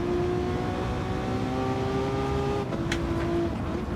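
Massive V12 race car engines in Gran Turismo 7 at Atlanta, a steady high-pitched engine drone holding a sustained tone, loud and continuous with a slight shift near the end, no talk.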